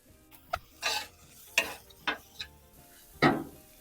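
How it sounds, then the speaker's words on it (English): Vegetables sautéing on a Blackstone griddle, with a soft sizzle broken by several sharp scrapes and stirring strokes of a spatula on the flat top, close by. "Then we got our vegetable sauteed."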